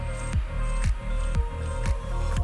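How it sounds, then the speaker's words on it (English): Someone drinking water in a cluttered art workspace, a run of regular soft gulps about half a second apart, close and fairly loud with no talking. "Let me take a sip of water"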